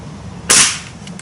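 A Gamo Swarm air rifle fires a single sharp, loud crack that decays quickly, heard alone against a quiet background.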